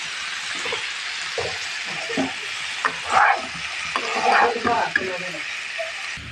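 Bean, cauliflower and potato bhaji frying in a pan as coriander leaves go in, a soft sizzle running under scattered stirring scrapes and light clinks.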